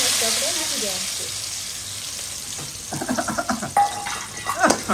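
Hot groundnut oil fries and sizzles loudly as ingredients go into the pan for a prawn curry. The hiss gradually fades under clattering and stirring, and a voice is heard at the start.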